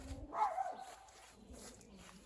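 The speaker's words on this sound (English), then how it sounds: "It's my aunt's dog, great aunt's dog" A great aunt's dog barks once, a single short, nearby yelp, followed by quiet background.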